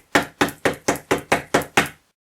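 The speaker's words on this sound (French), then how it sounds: "le loup frappe doucement à la porte" A wolf knocks softly on a door: eight evenly spaced raps in quick succession, close and clear, with nothing else heard around them.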